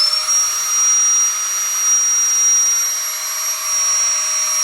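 A Flextail Tiny Pump 2X pulls air out of an air mattress: a steady, loud motor whine with a high tonal hum, continuous and unbroken throughout, with no voices.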